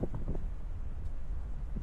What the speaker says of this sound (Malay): So, angin dia memang kuat.